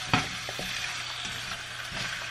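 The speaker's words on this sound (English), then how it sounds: "The carrots being cooked." Carrots fry for chow mein noodles with a continuous sizzle, punctuated by a few sharp clinks and scrapes of stirring in the pan.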